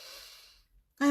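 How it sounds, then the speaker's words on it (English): A single slow, soft inhale of breath, close to the microphone and fading over about half a second. Brief silence follows, then a sharp onset of voice. "So I breathe in"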